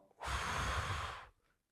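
One deep breath, a long airy exhale lasting about a second, close and soft with nothing else around it.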